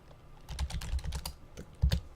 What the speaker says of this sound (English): I apologize for the typing